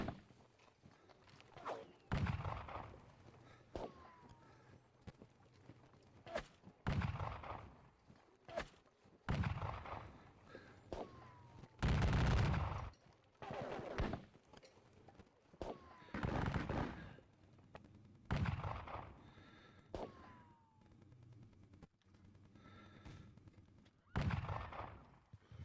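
Musket skirmish fire in the Napoleonic war game WDS Jena comes as a series of sharp, booming volleys and scattered shots, each with a decaying rumble, repeating irregularly every couple of seconds.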